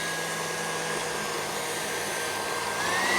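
An electric mixer beats cream into butter at full speed, giving a steady, loud, unbroken whirring drone that holds throughout.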